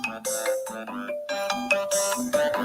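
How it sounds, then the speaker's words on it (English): A mobile phone ringtone plays a bright, repeating melodic tune, loud and close, interrupting a small-business podcast conversation with no talk over it. "my phone is ringing"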